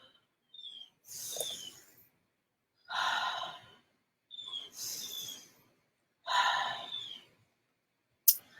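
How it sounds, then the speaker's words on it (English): Slow, deep breaths in a children's yoga session, each drawn in and released at an even pace, close and clear against near silence, ending with a sharp click. "we're going to inhale 3 times together"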